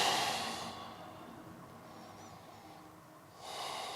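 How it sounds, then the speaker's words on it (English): A long, slow exhale released during a gentle lower-back yoga session: a soft breathy rush that fades and settles, then swells again near the end, close and alone with no talk. "Then we're going to release the breath again."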